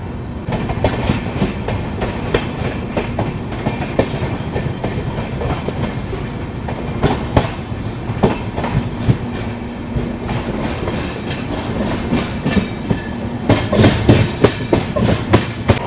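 Rajdhani Express train running through Farakka Junction on a loop line without stopping, with steady loud rumble and rhythmic clickety-clack of wheels over rail joints, brief high wheel squeals and clatter throughout.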